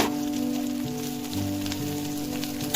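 Okra hitting hot oil in a frying pan sets off a steady, close sizzle and hiss that holds at an even level throughout, with a low background hum and no talk.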